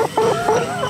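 A chicken clucking close up, several quick short clucks in an uneven rhythm, with no other sounds.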